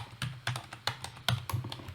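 Keys clack on a computer keyboard while a formula is entered in an Excel spreadsheet, around eight distinct, moderately close keystrokes in an uneven rhythm with no talking.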